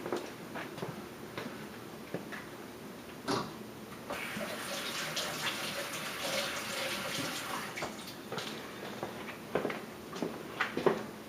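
Running water pours over a small whittled wooden miniature horse, a steady broadband splashing swell that rises midway and holds, with brief clicks and knocks scattered through, no talking.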